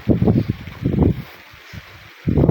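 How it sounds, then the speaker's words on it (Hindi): Gusty wind buffeting a microphone outdoors in a village among black pepper, sheesham and poplar plants, coming in loud rumbling bursts with quieter gaps between them. "और हवा चल रही है"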